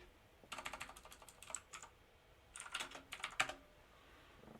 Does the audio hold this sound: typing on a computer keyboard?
yes